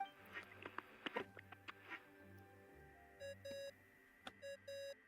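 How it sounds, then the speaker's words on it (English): Electronic beeps sound in a Genshin Impact video game cutscene, two pairs of short, steady tones near the end, preceded by a few soft clicks and taps, fairly quiet overall with no talking. "I love how I have to listen to the beeping before I can skip"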